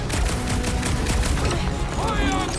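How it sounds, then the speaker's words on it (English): Rapid volleys of sci-fi gunfire from Marvel's Guardians of the Galaxy, dense bursts of blaster shots in quick succession, loud and close over a busy battle mix. "Let me shoot you!"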